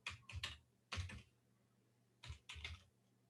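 Typing a command on a computer keyboard at a PowerShell prompt in Windows Server 2019: two quick bursts of close, crisp key clicks separated by a short pause, with no talk.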